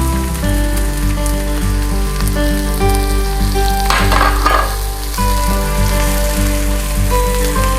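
Garlic, ginger and green chili fry in oil in a pan, giving a loud, steady sizzle with a brief flare of crackling midway, and no one talks.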